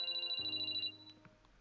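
A phone ringtone chirps in quick repeated pulses for under a second in a video game, then stops, leaving a quiet tail.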